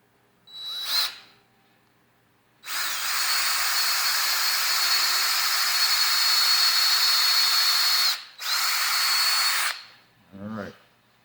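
A power drill drives a screw into a devil/demon skeleton prop, whirring loudly and steadily for over five seconds, pausing briefly, then running in a shorter second burst, with a short voice sound afterward.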